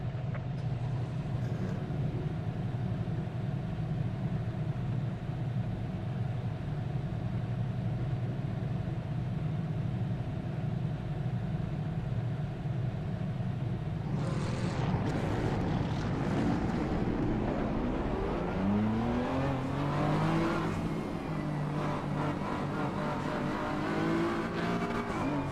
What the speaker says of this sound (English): Turn the engine on, that would help.